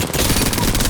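The R-99 submachine gun fires in Apex Legends as a loud, rapid, unbroken stream of shots lasting about a second.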